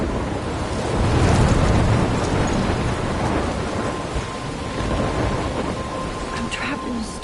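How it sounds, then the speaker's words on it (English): A storm in a video game, with heavy rain hissing steadily and deep rumbles of thunder rolling underneath, loud and continuous with no voices. "I'm trapped in a storm?"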